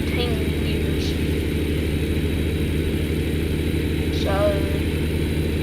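Steady, close diesel idle of a new Kenworth semi truck with an upgraded engine, a dense low throbbing rumble throughout with a few faint whistling squeaks, and a voice briefly speaking over it.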